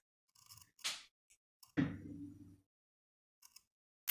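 Scissors snip into shirt fabric along a sewing-pattern marking: a few crisp, separate cuts with quiet pauses between them, including one louder, longer crunching clip partway through.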